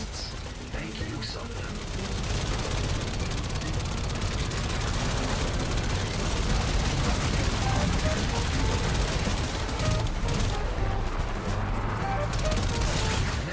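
Sustained turret gunfire rattles on in the Warframe video game as landing ships are blown up, a dense continuous barrage of shots and blasts lasting over ten seconds.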